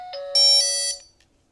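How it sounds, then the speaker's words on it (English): A Dahua Airshield Hub2 alarm system sounds its door chime, a bright electronic two-tone ding-dong lasting about a second that rings clearly in a quiet room before fading out. "that's the door chime"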